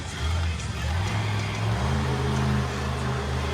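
Smashosaurus monster truck at an outlaw nationals monster truck event, engine droning loud and steady with low harmonic rumble and rising pitch as it drives over the roller, no talk.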